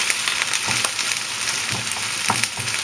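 King prawns and spring onions sizzle and crackle in a pan over a hot fire, with steady loud frying noise broken by the scrape and clatter of stirring strokes.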